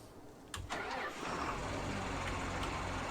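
A John Deere tractor in Farming Simulator 19 cranks and fires, the starter catching after a brief whir before the engine settles into a steady, rumbling idle.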